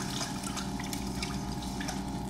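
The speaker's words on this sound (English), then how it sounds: "we like to wash out the containers and reuse them for little things here and there" Running tap water washing out plastic containers at a kitchen sink, a steady soft splash and trickle with small drips, fairly quiet and with no voices.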